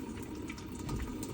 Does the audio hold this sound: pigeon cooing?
no